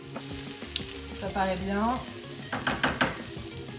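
Garlic sizzles and crackles in a frying pan with squid and chorizo, a steady hiss with scattered pops and stirring scrapes, while a person speaks briefly over the cooking.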